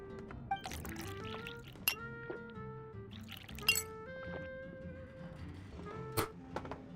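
In Genshin Impact, glasses clink in scattered bright taps alongside trickling, dripping juice being poured, the small sounds spread unevenly across a quiet, close scene with no talking.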